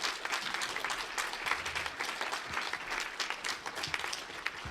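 An audience claps at a live podcast panel at Anthrocon 2023, producing sustained dense applause from a crowd, moderately distant and even throughout.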